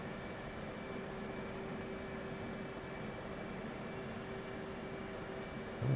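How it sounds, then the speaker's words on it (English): An A-10 attack jet flies in the DCS World combat flight simulator, its engine making a steady, droning roar with a faint tonal whine that holds constant throughout. "Oh, another A-10."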